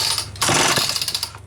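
A Homelite Super XL chainsaw is cranked by its pull cord: a short, loud, rough mechanical whirring burst that pulses for about a second before dropping away.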